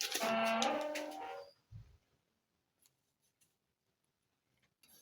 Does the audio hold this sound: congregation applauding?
no